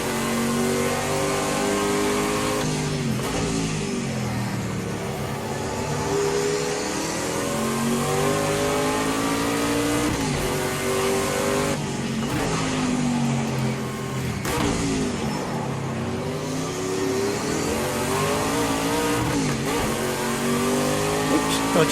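A prototype race car engine revs hard and loud, its pitch repeatedly climbing and then dropping at rough, uneven gear changes in the Project CARS 2 racing game, with no talk over the steady engine roar.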